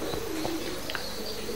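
Pigeons coo softly inside a loft fitted with grills and V-perches, a few low murmuring calls over a steady background hum.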